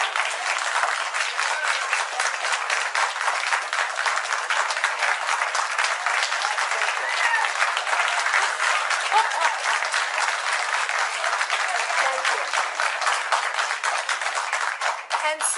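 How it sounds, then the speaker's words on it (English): An audience claps loudly and continuously in a dense, even burst of applause that holds throughout. "save the applause till the end."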